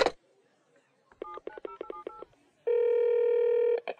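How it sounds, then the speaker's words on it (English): Touch-tone telephone dialing, a quick run of separate keypad beeps in uneven rhythm, followed by one long steady tone, all close and clear with no talking. "Bill hung up the phone and nervously dialed Buck at his home."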